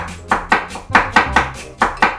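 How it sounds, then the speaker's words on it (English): Knife slicing short rib meat thinly on a cutting board for Korean tteok galbi, a quick run of about eight crisp, evenly spaced chops, close and clear, with no voices. "Next, slice thinly in the other direction."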